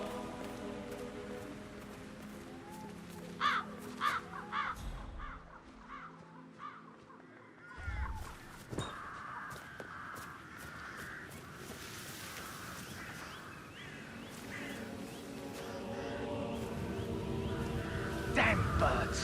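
Crows in the Dartmoor level of the video game Hitman 3 give several caws at mid distance over a quiet rustling ambience, with a low voice briefly present.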